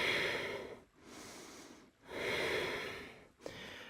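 Slow, deep breaths drawn through the nose while a yoga goddess pose is held, two long airy inhale and exhale cycles with brief pauses between them, close and fairly quiet, with a soft sniff near the end.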